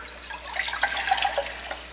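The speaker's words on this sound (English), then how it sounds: "Pour it into a separate container." Liquid, two cups measured out, being poured into a separate container, with a soft, steady trickle and splash and a few bright drips, close and fairly quiet, no talking.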